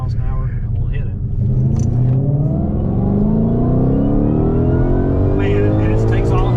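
A Ford Shelby Mustang Cobra GT500 accelerates hard from low speed, its loud engine rising steadily in pitch through the gear, heard from inside the car.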